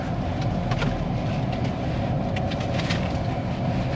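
A car cruising along a coastal road in Goa, a steady low road rumble and engine hum with faint rattles, continuous and close, no talking.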